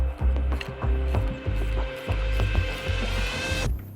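Steering gear from an old Porsche 911 being turned by hand, running rough with a grinding, ratcheting mechanical clatter in uneven bursts, loud and close with no voices.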